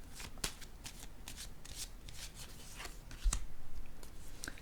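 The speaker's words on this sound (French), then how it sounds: "Je vais déposer une autre carte." Playing cards shuffled and dealt during a card-reading session, a steady papery riffle of soft flicks with a firmer slap as a card is laid down near the end, close and quiet with no talking.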